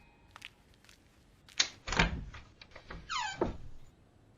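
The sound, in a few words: door being opened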